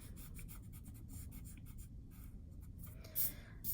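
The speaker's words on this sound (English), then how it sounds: "So now I can erase those orthogonal lines" Pencil eraser rubbing out drawn orthogonal guidelines on paper in a one-point perspective drawing, a close, steady scratchy scrubbing with short strokes and a brief louder rub near the end, no talking.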